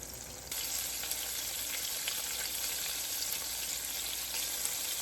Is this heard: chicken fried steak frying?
yes